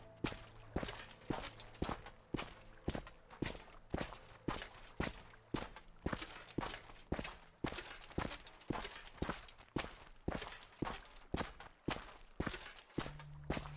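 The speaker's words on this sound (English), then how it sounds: "I can hear their footsteps" Pursuers' footsteps in an Elder Scrolls game, a brisk, regular run of heavy steps thudding about twice a second, close and steady throughout, with no speech.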